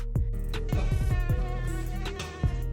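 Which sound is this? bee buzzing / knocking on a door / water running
bee buzzing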